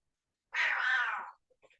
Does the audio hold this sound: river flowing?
no